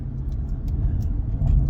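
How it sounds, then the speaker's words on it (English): A struggling car engine running as a steady low rumble, close and continuous, with faint light rattles over the top and no talk. "I don't know if y'all heard me over my struggling engine"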